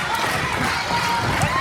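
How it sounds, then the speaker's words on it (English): A lucha libre pro wrestling crowd roars and cheers for El Misterioso in a steady, dense wash of voices. An announcer talks over the noise. "The crowd is getting into it. They are trying to encourage Misterioso here."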